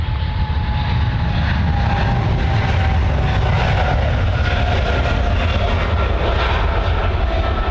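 Boeing 777 takes off on runway 16 right at Sydney Airport bound for Hong Kong, its engines a loud, steady roar that holds without a break from start to finish, with no voices over it.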